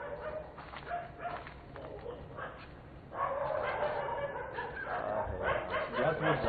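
Several dogs bark in a neighborhood at dusk, sharp repeated yaps and barks at moderate distance, overlapping and irregular, growing busier toward the end, with faint voices in the background.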